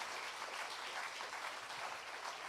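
A church congregation at a Sunday celebration service applauds with a steady, even wash of clapping from many hands, faint and distant, lasting the full few seconds without a break.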